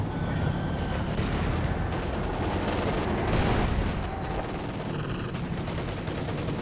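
Dense gunfire and rifle volleys from a Company of Heroes 2 1v1 match, with steady rattling bursts and distant explosions running continuously throughout, loud and busy.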